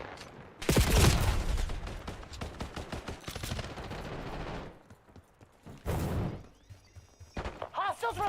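Bursts of gunfire in the video game Dynasty, with rapid fusillades and machine-gun rattles close and loud, broken by a quieter lull, then another heavy volley and scattered shots near the end.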